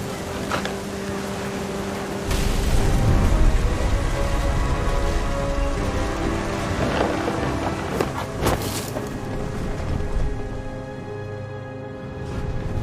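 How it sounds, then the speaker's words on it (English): A thunderstorm with heavy rain drums steadily on surfaces, with gusty wind buffeting and a low rumble swelling briefly early on, continuous and fairly loud with no voices. "The thunder sounded much too close and full of angry power."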